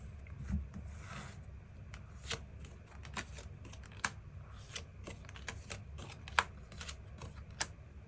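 Tarot cards shuffled and drawn by hand, soft irregular riffling and crisp card snaps, close and quiet with occasional sharper clicks as cards are laid down.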